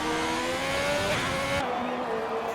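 A Ferrari Formula 1 car in the F1 2020 game races past at Silverstone, its high-revving engine whining loudly before the pitch drops sharply as it goes by, with no talk.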